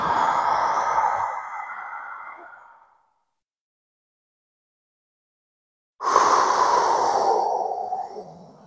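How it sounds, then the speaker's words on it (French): Two long, deep breaths are blown out during a breathing exercise, each a soft, airy rush that slowly fades, with a few seconds of silence between them. "On prend le maximum d'espace intérieur et on souffle et on vide tout."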